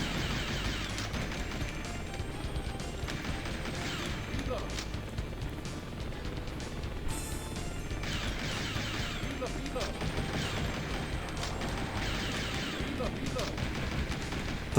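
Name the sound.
gunfire from the video game Virtua Cop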